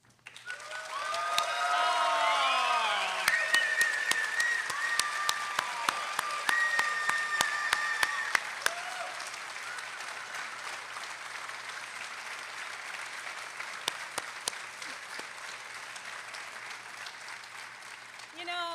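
A commencement ceremony audience applauds the faculty in a large hall, sustained clapping that swells then gradually thins, with scattered whoops and cheers, fairly distant and reverberant.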